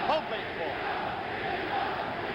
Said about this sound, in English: Crowd chanting, Jimmy Young